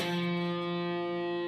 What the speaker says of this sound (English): Here you're going to strum from your D string down.